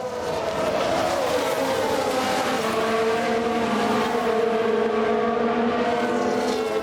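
Racing cars roar and whine past one another in F1 Manager 22, a dense, steady layer of engine drone with shifting pitches as cars overtake, loud and continuous throughout.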